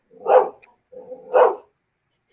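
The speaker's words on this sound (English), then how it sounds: "Guard dogs. Guard dogs." Guard dogs bark in a few separate bursts: two full barks about a second apart, then a third cut off at the end, with silence between them.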